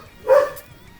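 One short bark from a small dog, close and fairly loud, with a quiet background.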